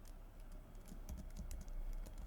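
Quiet, close clicking of a computer keyboard as JavaScript code is typed, with a steady run of light keystrokes and a few slightly louder taps, and no voices.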